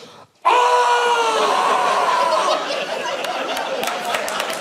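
A man imitates an animalistic, horrifying scream with his voice, a long sustained wail held for a few seconds as a crowd breaks into laughter.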